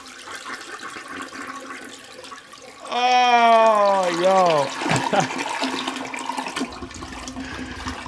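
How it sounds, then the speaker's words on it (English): Toilet flush with a rushing gurgle of water rising over low background noise and a brief voice, then trailing off into a quieter trickle. "that's a toilet flush"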